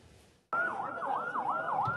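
A wailing ambulance siren, rising and falling in steady sweeps, cuts in loud and close after a brief lull, with traffic noise beneath, amid the aftermath of an airstrike on a hospital in Gaza.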